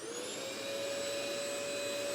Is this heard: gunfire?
no